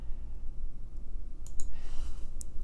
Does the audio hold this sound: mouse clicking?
yes